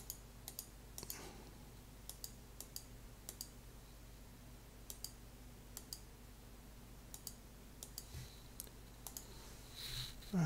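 Quick mouse clicks while islands are placed on a computer map, sharp dry taps scattered irregularly across a quiet background, some in fast bursts, close and fairly faint.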